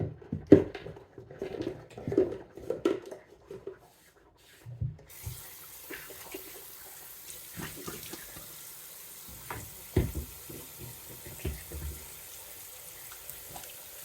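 Tap water runs into a sink during face washing, starting with splashing and handling noises, then settling into a steady hiss of flowing water with occasional splashes, close and moderately loud.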